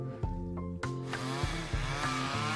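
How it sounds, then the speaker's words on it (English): A chainsaw runs steadily over a continuous hum, revving and surging in short pulses every half second or so, part of a comedic radio ad about a dad using one on the plumbing; no clear talking. "Is your dad using a chainsaw for our plumbing?"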